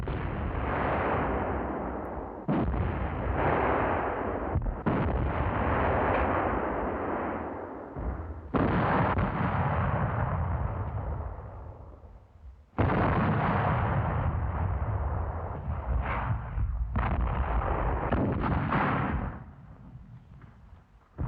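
Large caliber artillery guns fire in wartime, a series of heavy booming blasts at irregular intervals, each followed by a long rumbling decay, loud and alone with no voices.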